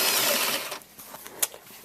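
Sewing machine stitching along the very edge of a lace skirt hem with its lining, a steady whirring hum in the first part that fades into quieter handling noises and a brief sharp click.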